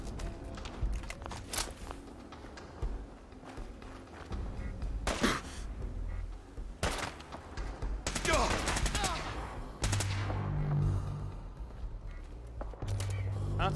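Gunfire rings out in Fallout 4 against a Mr. Gutsy robot, with scattered single shots and bursts of rapid fire mixed with explosive crackles and impacts, loud and irregular, with someone talking over parts of it.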